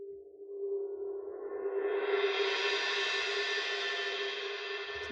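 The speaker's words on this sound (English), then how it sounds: "the other recorded sound is a suspended cymbal" A recorded suspended cymbal, likely bowed, swells into a sustained metallic shimmer with a strong steady tone, brightening as it builds and ringing on evenly for several seconds without talk.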